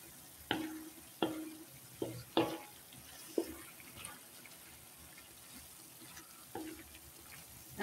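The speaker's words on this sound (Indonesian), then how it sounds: "Ini kita aduk. Jadi kita aduk sebentar saja pemirsa, kurang lebih 3 menit ya pemirsa" A spatula stirs stir-fried beef scraps, tempeh gembus and chilies in a pan, giving sharp scraping clatters at irregular intervals over a soft sizzle, with no voices.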